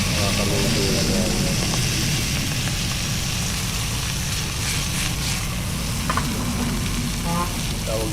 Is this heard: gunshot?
no